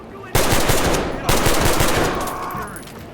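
Gunfire in the tactical shooter Ready or Not: two loud, close bursts of rapid automatic shots, each rattling for about a second, trailing off into echo and faint movement.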